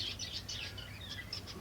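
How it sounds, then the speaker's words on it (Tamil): A pair of pet finches, a male and a female, chirp in a home garden, giving quick, bright, high tweets in short bursts close by. "பறவையில் பிஞ்சர்ஸ் வச்சுருக்கோம்."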